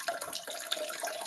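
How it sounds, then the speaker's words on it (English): Water running from a tap somewhere in the background of a video call participant's room, a steady, moderately faint hiss of flow with a few small splashy bumps and no talk over it. "I can hear somebody's water."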